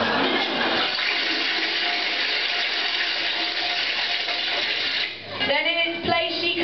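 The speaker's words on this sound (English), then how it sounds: "quickly flushed it down the loo" A toilet flush sound effect for a staff stage production of Cinderella: a loud, steady rushing surge of water that runs for about five seconds, then drops away into a gurgling, refilling tail.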